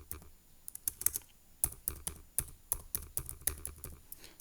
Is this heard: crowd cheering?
no